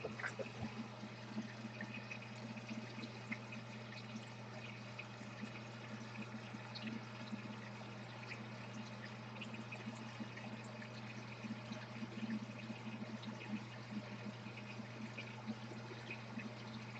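Water runs steadily in a shed to flush dirt out of a line, a constant faint trickling stream with an even hum beneath it and no talk.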